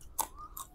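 Two quick crunchy bites on crisp fried anchovies (ikan bilis) from a ready-to-eat nasi lemak, close to the mouth, with a sharp crackle followed by a second softer crunch a moment later.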